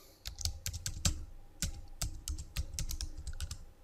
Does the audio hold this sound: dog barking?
no